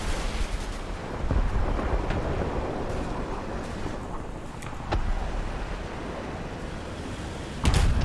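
Upgraded high-speed missiles firing in a vehicle combat video game, heard as a sustained roaring rumble with sharp booming launches near the start, around the middle and a loud burst at the end.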